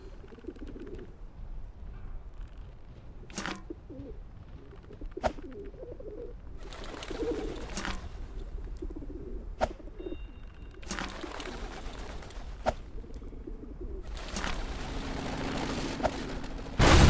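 Pigeons coo in the video game Whateverland in a junkyard scene, with soft low burbling calls repeating over a steady ambient bed and several sharp clicks or cracks breaking in from time to time.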